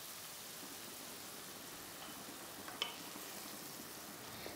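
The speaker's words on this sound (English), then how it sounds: "Let this masala cook on medium flame till oil starts to separate." Masala of spices, ginger, garlic and tomato sizzles in oil over a medium flame, a faint, steady hiss with one small pop partway through.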